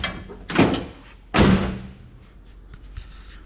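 Two solid door slams, about a second apart, from a 1987 Chevy K5 Blazer with a shimmed hinge and no door seals, each a loud close thud followed by quieter rattles and a faint clink.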